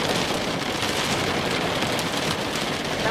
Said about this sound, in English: And here's the rain. It's now pouring.